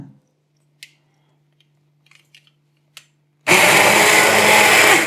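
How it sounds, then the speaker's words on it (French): A kitchen blender pureeing cooked tomatoes roars loudly and steadily for the last second and a half, following a few faint clicks and taps in near silence. "Donc on va pouvoir passer nos tomates au mixeur."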